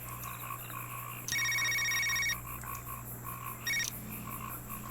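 Phone ringing in the Knee Deep video game, two bursts of an electronic ring, the first long and the second brief, over a steady low hum and background murmur.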